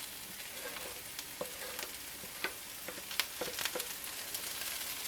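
Cubed corned beef frying in a pan for low-carb hash, giving a steady close sizzle scattered with small pops and crackles.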